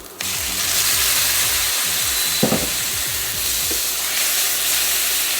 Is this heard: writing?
no